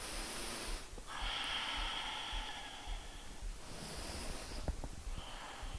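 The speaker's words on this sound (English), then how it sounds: "Couple more breaths." Slow, deep breaths during a gentle beginner yoga session, each long airy inhale or exhale drawn out over a second or more, close and soft with quiet pauses between them.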